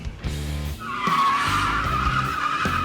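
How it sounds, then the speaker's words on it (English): A Packard car doing burnouts in a parking lot, tires squealing loudly and continuously over a rough revving engine, close by and with no voices. "I did some burnouts, a couple donuts"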